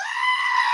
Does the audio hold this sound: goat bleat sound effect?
yes